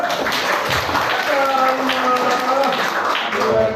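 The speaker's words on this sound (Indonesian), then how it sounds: "Ya, kita berikan aplaus" Applause from an audience at a classroom lecture, a dense burst of clapping close by, with voices heard among it.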